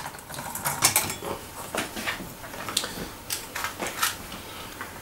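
A metal simmer ring being lifted off a camp stove in the Australian bush, a series of close light metallic clinks and rattles scattered over a few seconds.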